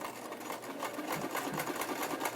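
A sewing machine stitches cloth diaper fabric, its needle chattering in a fast, steady run of rapid pulses, close and moderately quiet.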